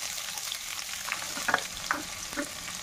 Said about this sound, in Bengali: তেল দিয়ে শুকনো লঙ্কা আর তেজপাতা ফোড়ন দিয়ে দেব। কুচানো পেঁয়াজও দিয়ে দেব।